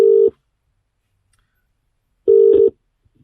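A phone gives two short, loud tones separated by silence as a call is placed, each tone lasting about a third of a second, with no voices.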